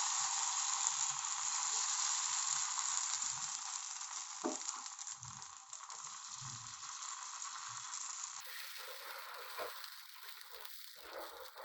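Uthappam made from dosa batter sizzles steadily in oil on a hot pan, a continuous close frying hiss with faint clinks, with no voices.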